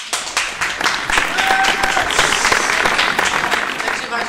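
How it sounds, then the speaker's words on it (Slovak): A studio audience on a Slovak TV talk show breaks into steady, loud applause, dense clapping that holds at a constant level for several seconds. "Potlesk."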